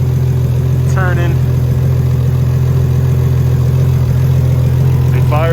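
A Nissan Skyline R32 GTR engine runs at a loud, steady idle with a deep, constant drone throughout, while a voice talks over it at a couple of points.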